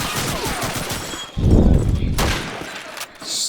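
Gunfire in a competitive first-person shooter match, including Garand rifle shots: a burst of loud, close shots with a heavy low thump near the middle, mixed with game noise and a brief bright tone near the end.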